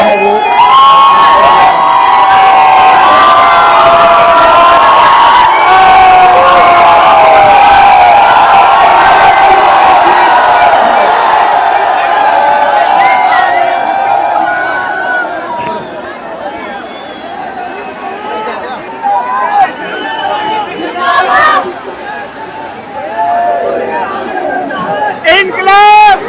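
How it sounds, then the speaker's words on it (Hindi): A large crowd of Gen-Z protesters at Jantar Mantar, Delhi, fills the air with loud overlapping shouts, chanting and babble, swelling for a long stretch before thinning into scattered cries and whoops near the end. "जो भीड़ है वो बहुत ज़्यादा है"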